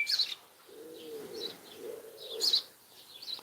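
Two pigeons in a home garden, with soft low cooing phrases recurring beneath brief higher chirps, outdoors and fairly close, no talking.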